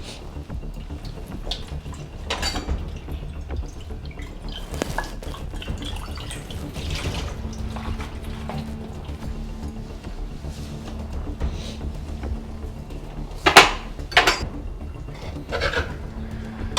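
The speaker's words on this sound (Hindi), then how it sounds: "भाभी मैंने बर्तन भी धो दिए" Dishes being washed under running water at a home kitchen sink, with steady water flow, occasional drips and light clinks of utensils and pots throughout, plus a few sharper clatters near the end.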